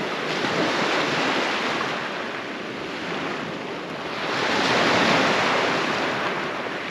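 Surf rolls and breaks onto the shallow, flat beach at Hornsea North on the Holderness coast, a steady broadband wash that swells louder toward the end, mixed with wind buffeting.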